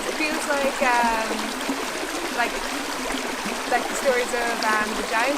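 A river runs past huge stepping stones at a rural crossing on a walking trail, giving a steady close rush and trickle of water under a person talking throughout.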